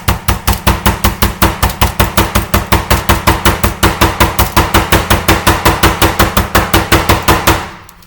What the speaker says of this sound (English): I'm just gonna pound on it a little bit.